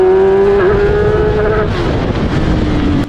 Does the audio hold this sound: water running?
no